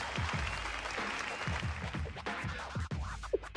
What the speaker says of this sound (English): the Wild Hut suits are giving a standing ovation